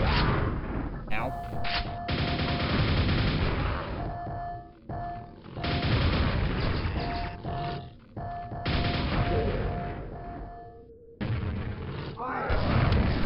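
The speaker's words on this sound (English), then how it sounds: "he just suddenly launched a grenade in my face" Grenade blasts boom through a Quake deathmatch on PC, mixed with repeated heavy weapon fire and clattering impacts in loud, choppy bursts separated by short gaps, with a voice talking over parts.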